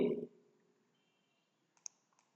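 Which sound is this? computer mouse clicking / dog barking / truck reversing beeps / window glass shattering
computer mouse clicking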